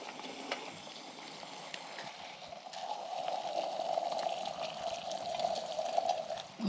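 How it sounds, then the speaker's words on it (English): A pot being filled with water from a tap in a home kitchen: a steady, faint pouring stream that rises slightly in pitch and fullness as the pot fills, with light clinks and no talk. "Fill up the pot."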